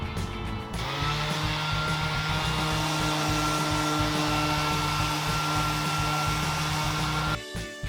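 A brand new orbital sander fitted with a 100 grit disc strips latex paint from a solid wood desk, a loud steady motor whir with a gritty abrasive hiss that runs unbroken for several seconds before cutting off near the end.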